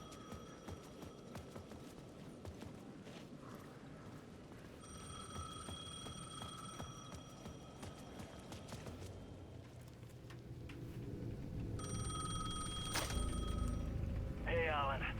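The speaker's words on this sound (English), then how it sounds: "the payphone at the edge of the plaza was ringing again." A payphone in the video game Alan Wake 2 rings in two repeated bursts of electronic trilling over low ambient rumble and faint background sounds, growing louder and closer in the second burst.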